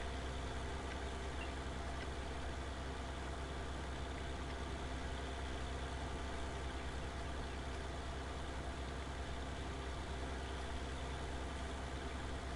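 A New Holland tractor engine runs steadily in the video game Farming Simulator 19, a constant low droning hum with no change in pitch, heard alone and fairly quiet.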